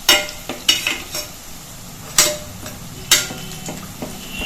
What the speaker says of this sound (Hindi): अब हम इसमें ऊपर से थोड़ा तेल डाल देंगे जिससे कि ये ऊपर भी इसे सिक जाए